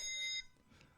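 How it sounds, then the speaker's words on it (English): An incoming-call ringtone on a phone: a bright, steady electronic ring that lasts under half a second, then cuts off abruptly into near quiet. "Y'all think I should answer it?"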